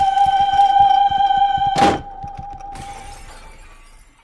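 A loud burst of shattering glass cuts through a steady electronic hum and rhythmic thumping, then scattered debris and lingering noise fade away.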